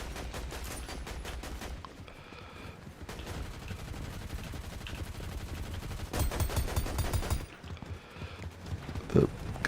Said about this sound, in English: The guns sound different.